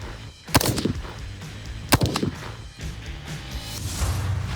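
Three rifle rounds from a sitting or prone position at outdoor shooting practice, two sharp close reports with brief echoes plus a fainter shot, evenly spaced, no talking.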